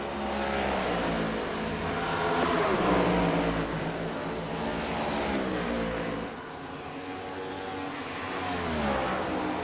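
Race cars lap Watkins Glen in a racing video game, engines droning loud and continuous with shifting pitch as they rev and hold speed, no talk over the steady roar.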